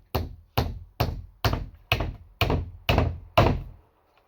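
Eight evenly spaced hammer blows driving nails into a wooden chest of drawers, each a loud, close, resonant thunk with a short decay, about half a second apart.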